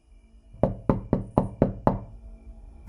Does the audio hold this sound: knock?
yes